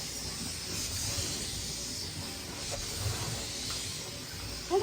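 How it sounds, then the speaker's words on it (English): A steam mop lets out a steady, close hiss of steam that runs unbroken the whole time, with faint low rumbling beneath it, while someone gets a corner of the house cleaned. "So the steam was coming out."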